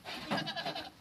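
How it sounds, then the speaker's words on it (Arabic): Goats bleat at a goat and livestock market where seventeen does and a buck are on offer, with several wavering, overlapping cries up close and no talk. "عندنا 17 معزة بالعتروس تاعها"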